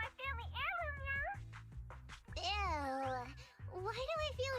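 A cat girl character in the Zenless Zone Zero video game voices playful meows woven into high, cute speech, close and clear over soft background music; a voice imitates the cat sound.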